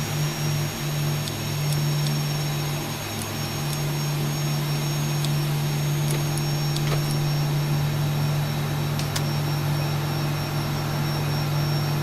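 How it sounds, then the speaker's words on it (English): Jet engine 1 of a simulated 737 or MD-11 airliner in a flight simulator game spins up as a steady, even whine with a constant droning tone and faint clicks, heard alone with no talk. "Alright, you start on engine 1"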